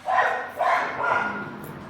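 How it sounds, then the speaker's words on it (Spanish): Several neighbours' dogs bark in a loose rhythmic burst, three or four loud overlapping barks from nearby with yelping edges, no talk over them. "los animales perros de los vecinos, sí, pues están como tontos ahí gritando"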